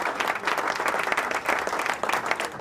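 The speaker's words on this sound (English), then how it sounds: "Like that applause, Montel." Studio audience applause on a talk show, dense and continuous clapping from a large crowd at a steady, fairly loud level with no pauses.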